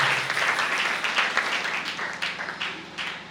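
A church congregation applauding the Lord during a French and Swahili sermon, steady dense clapping from many hands that carries evenly through the whole stretch.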